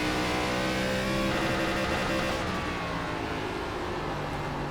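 An ARCA Menards Series race car engine at USA International in iRacing, a loud continuous droning whine that keeps wavering and cutting out slightly, with no voices over it.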